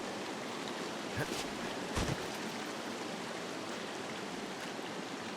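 A shallow creek in the video game Firewatch flows with a steady, broad rushing wash, heard close and constant, interrupted by a couple of brief soft knocks.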